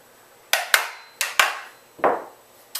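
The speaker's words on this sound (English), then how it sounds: "So we put the trigger group back in the" A trigger group pushed into a Benelli Nova shotgun receiver gives a string of sharp metallic clacks and knocks, about six hits with ringing decay, loud and close.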